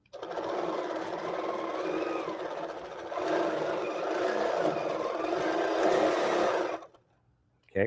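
A sewing machine stitches continuously for about seven seconds, a close, steady whirring drone with slight speed swells, then stops abruptly, followed by a brief click.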